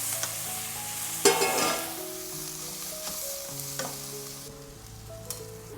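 Rice water poured into a hot frying pan of food produces a sudden sizzling burst that then settles into steady frying crackle, with faint stirring clinks and a low background hum.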